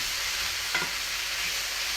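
Pork pieces being stirred in a hot frying pan for sweet and sour, a brief scrape of the utensil cutting through a steady close sizzle.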